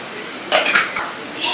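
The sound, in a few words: washing dishes, pots clinking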